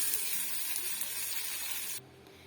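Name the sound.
sizzling curry leaf tempering added to coconut chutney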